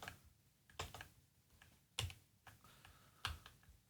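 Sparse keystrokes on a computer keyboard, each press a close, distinct clack with a few louder hits spaced roughly a second apart, in a quiet room with no talking.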